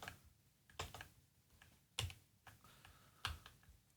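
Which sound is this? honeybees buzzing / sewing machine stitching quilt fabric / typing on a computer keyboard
typing on a computer keyboard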